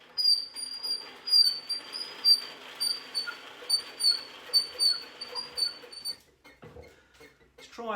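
A honey extractor wheel squeaks as it spins, giving a rhythmic series of high, thin squeals about twice a second that stop abruptly, followed by a few soft knocks.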